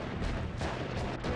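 Ball lightning spells bursting in Noita, producing a dense run of rumbling, booming explosions that overlap into a continuous roar with no pauses.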